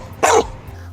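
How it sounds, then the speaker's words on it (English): A working dog named Boomer, a tough bull-chasing dog, gives one sharp, loud bark close by on a guard command. "Now, he's my working dog."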